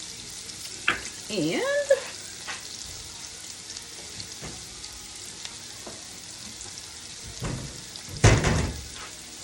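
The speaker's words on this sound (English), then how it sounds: "This has been simmering, I don't know, for about 5 minutes." Celery and onion simmer and sizzle softly in a pot with salt and cracked pepper added, a quiet bubbling hiss broken by a few clanks, stirring sounds and a brief spoken word.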